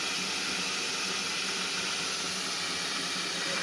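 A carpet cleaning machine filled with very hot water hisses steam in a steady, even, broadband rush that holds constant throughout, fairly quiet with no voices over it.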